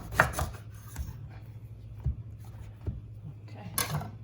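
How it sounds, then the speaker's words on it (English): A knife cuts a cleaned eggplant, trimmed at both ends, into cubes on a board, giving a few soft thumps and scrapes at irregular intervals over low background hum. "Now I will slice it into cubes."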